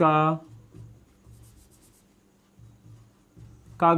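Pen scratching out a heading in a school notebook, quiet rhythmic strokes in short bursts between spoken lines, with a voice talking at the start and end.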